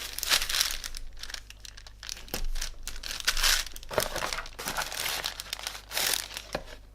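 Cardboard envelope and paper handled up close, with bursts of crinkling, rustling and tearing as a small holographic sticker is pressed on to seal it, loud and uneven throughout.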